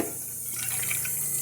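Water poured into a container, a short, steady splashing gush that stays close and even for just over a second.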